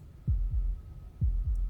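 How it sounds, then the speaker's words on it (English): A slow, steady heartbeat from the video game Slay the Princess, with deep thumping double beats repeating twice, close and clear over a faint hum, with no voices. "That was the sound of a heartbeat"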